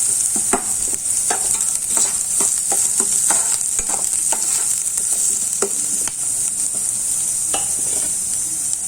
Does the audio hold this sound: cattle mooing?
no